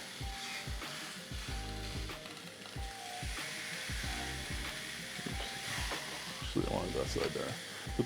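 Flat iron steaks sizzle on a Ninja Foodi Grill with the lid open, a steady frying hiss throughout, punctuated by repeated low knocks and clunks of handling, with a brief louder crackle near the end.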